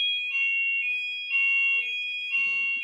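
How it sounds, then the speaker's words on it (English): A fire alarm sounds continuously at a steady, piercing pitch, pulsing slightly in loudness about once a second, with faint talk underneath. "Alarm again, guys."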